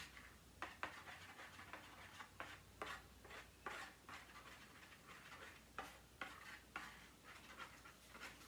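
Lip gloss base being stirred and mixed in a container, a steady scraping swish broken by repeated short clicks and taps of the utensil, close and fairly quiet with no talking.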